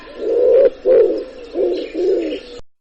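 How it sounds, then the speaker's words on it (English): Pigeon cooing in four low, rounded phrases with short pauses between them, close and clear with nothing else around it. "Pigeon."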